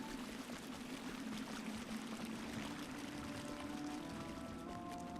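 Steady flowing water ambience in the fantasy online game LOTRO, a continuous broadband wash with no breaks, fairly close and even in level, with faint tonal game sounds drifting in toward the end.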